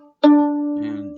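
Violin D string bowed once, a close, steady sustained tone with rich harmonics that holds for about a second with slight bow noise near the end, heard alone.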